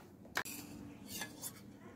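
Sour yogurt being whisked in a bowl for homemade sweet curd, opening with one sharp metallic clink of the utensil against the bowl, then a few quiet, soft scraping strokes.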